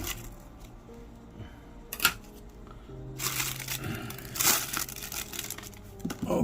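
Plastic packaging around a G.I. Joe Classified Series blue ninja two-pack of toy figures is cut and torn open up close, with loud crinkling, crunching and snipping in bursts and a sharp snap partway through.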